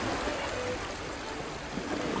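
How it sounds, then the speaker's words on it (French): Waves crash against a tower by the sea in the video game Baldo, a steady broad wash of surf and wind with no clear individual breakers. "J'aime rester ici et contempler les vagues qui s'abattent sur la tour."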